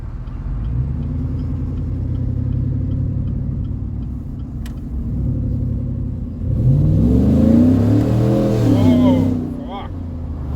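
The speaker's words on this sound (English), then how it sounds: "that's the Walkingshaw full exhaust system" A pickup truck fitted with a Walkingshaw full exhaust system idles with a deep, steady rumble, then revs loudly and rises and falls in pitch before settling back to idle, with people talking over it.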